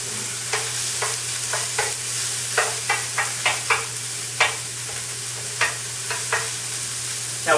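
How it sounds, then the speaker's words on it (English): Prosciutto rendering in a pan for shrimp and prosciutto spaghetti, giving a steady close sizzle with a string of scattered stirring scrapes and taps across the frying, no voices. "I'm just going to render this down, get this prosciutto crispy, just like you would bacon."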